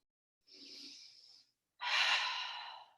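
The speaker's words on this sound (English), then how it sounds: "Big breath." Two close, clear breaths during yoga practice in a high lunge: a softer inhale, a short pause, then a deeper, louder breath that fades out slowly.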